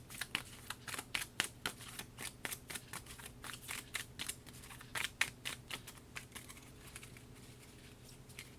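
Game cards for Kingdom Death Monster terrain are shuffled and drawn on a table, a quiet run of crisp riffling snaps and flicks in uneven bursts, close and soft with no talking.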